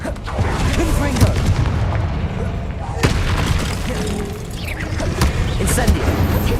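Loud, dense explosive booms and crackling blasts from the Confringo fire spell in Hogwarts Legacy, bursting repeatedly over continuous battle noise with a sharp hit near three seconds.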